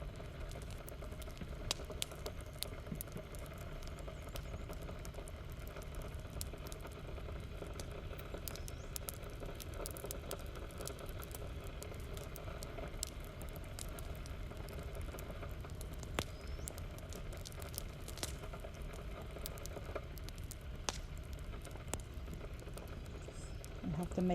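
A pot of metemgee boils on the stove, with steady, faint bubbling and soft crackling that continue for the whole stretch with no pause.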